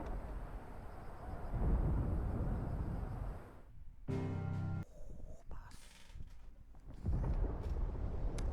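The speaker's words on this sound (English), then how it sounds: "Sounds like thunder." Thunder rumbles in the Final Fantasy XVI video game, low and rolling, fading in and out across the scene with quieter gaps between.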